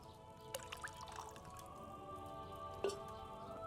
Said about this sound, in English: Start out by pouring the spirit.